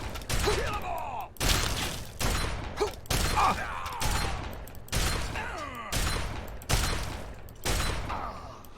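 Gunfire in the video game Fallout 3: about eight loud, sharp shots fire one after another at a steady pace of roughly one per second, each with a brief echoing tail.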